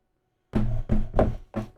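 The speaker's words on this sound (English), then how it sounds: "Put the top back in." A natural cork topper from a bottle of Partida Roble Fino Reposado tequila is pushed back into the bottle neck, giving several short, close, fairly loud knocking thunks in a row with no talk.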